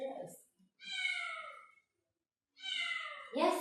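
A cat meows twice with drawn-out, harmonic calls and a pause between them, close to the mic, with short bits of sound before and after.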